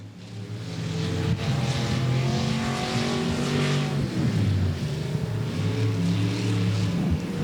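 Modified race cars at Golden Triangle Raceway Park roar loudly around the track, with continuous engine drone and shifting revs as the cars pass, without speech.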